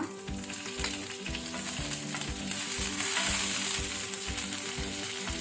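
Loud, steady sizzling of curry leaves frying in hot oil with mustard seeds, a dense crackling hiss with occasional stirring, no voices.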